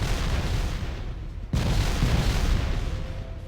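Loud, dense rumbling blasts from rockets clearing a forest in the video game Factorio, one sharp burst midway and continuous booming wash throughout.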